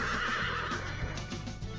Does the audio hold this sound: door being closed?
no